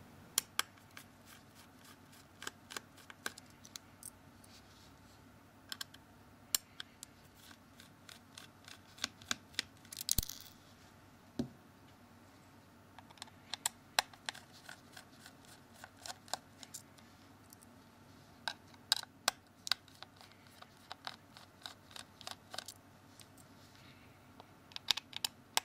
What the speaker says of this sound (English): Now we need to undo 7 of these Phillips screws.